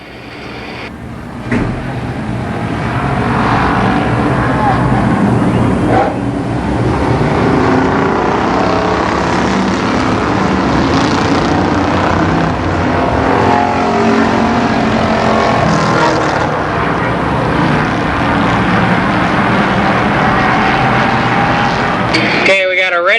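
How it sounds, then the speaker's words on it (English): Street stock race cars in a heat race at Columbus Motor Speedway in 1991, engines roaring loudly and continuously as the pack circles the track, with a public-address announcer talking over them. "Louis Street Stock first heat race"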